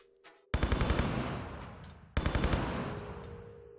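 Enemy gunfire in Tomb Raider 3's Coastal Village, two loud close bursts of rapid automatic shots, each trailing into a long reverberant decay.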